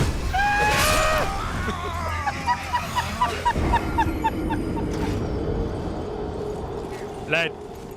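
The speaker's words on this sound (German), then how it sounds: "Der fucking Vogel!" A bird creature in Elden Ring lets out loud, repeated honking cries, a rapid burst at first and then a steady series of shorter honks. Game sounds and a voice run underneath, with a final honk near the end.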